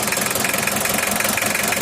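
The diesel engine of a Mitsubishi L300 runs steadily at idle with a rapid, even knocking clatter while its injection pump plunger is adjusted, loud and close with a dense mechanical rattle.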